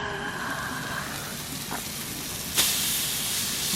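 Ribeye steaks sear on a Blackstone griddle outdoors with butter, giving a steady close hiss and sizzle that swells briefly with a sharper burst partway through.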